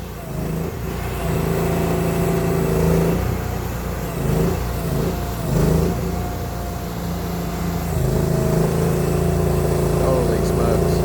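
A Mule utility vehicle's engine revs and idles steadily up close while a gooseneck trailer is maneuvered in a tight spot, with the throttle rising and falling throughout.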